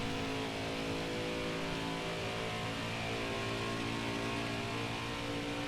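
Race car engine in the NASCAR Heat 5 career-mode game during a practice run: a steady, droning, slightly buzzing engine tone held at constant volume throughout, no talking.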